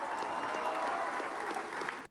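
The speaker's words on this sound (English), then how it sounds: "this crowd's really going now" A large crowd at an election victory speech in Argentina applauds and cheers in a dense, continuous wash of clapping and shouting that cuts off abruptly at the end.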